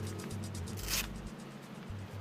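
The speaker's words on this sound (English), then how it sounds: "Prepare your jacket by doing up the main zipper, closing your pit zippers" Zipper on a Gore-Tex jacket being done up, a quiet close rasp with a brief brighter zip burst partway through, over faint low handling noise.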